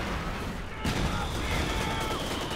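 Dense, continuous gunfire in a video game, a wash of overlapping shots and blasts at steady loudness throughout, with a slight jump in intensity partway through.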